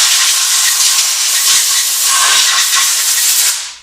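Compressed air blows hard across a Ford 5.0 small block Windsor engine piston, a loud, steady hiss that holds for several seconds before cutting off abruptly.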